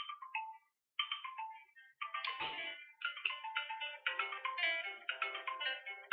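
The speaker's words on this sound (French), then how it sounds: "j'ai le téléphone qui sonne en même temps" A phone ringtone plays a bright, repeating melodic pattern, fairly faint and distant, with a brief gap near the start before the tune continues steadily.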